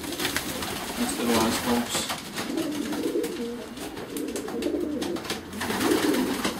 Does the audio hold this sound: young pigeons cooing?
yes